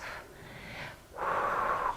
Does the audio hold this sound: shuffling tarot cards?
no